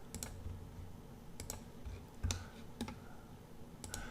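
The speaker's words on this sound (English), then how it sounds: "So I'm just clicking on each one of these guys" A computer mouse clicks sharply at a steady working pace, roughly eight crisp clicks spaced about half a second to a second apart while lines are selected in Fusion 360 design software, close and quiet over faint room hum.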